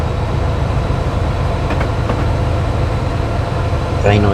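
Steady, loud rumble of a J94 steam engine in a train simulator game, a continuous rolling drone with faint rail clicks running throughout, ending in a brief higher squeal.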